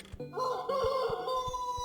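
A chicken in the video game Billy's Nightmare gives a short, sustained crowing call over soft rhythmic thumps, near and clear with no talking.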